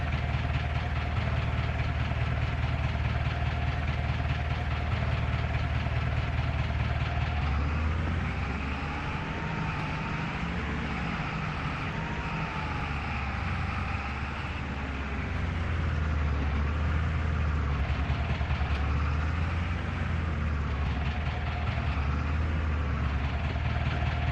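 A tractor engine in Farming Simulator 25 runs steadily for the whole stretch, a continuous low diesel drone whose pitch rises and falls gently as it works.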